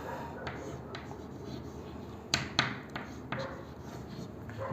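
Chalk tapping and scraping on a classroom blackboard during a chemistry lesson: faint, quick clicks and short strokes over a steady background hiss, with no talking.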